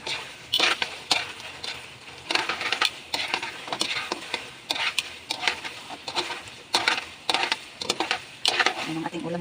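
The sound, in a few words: frying hamonado longganisa sausage in a pan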